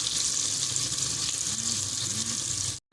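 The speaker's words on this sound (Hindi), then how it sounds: "ये देख सकते हैं मैंने प्याज और लहसुन ऑयल डाल के ऊपर रख दिया" Onion and garlic frying in oil in a pan for chicken pulao, a steady bright sizzle with a faint low hum underneath, continuous and close, cut briefly near the end.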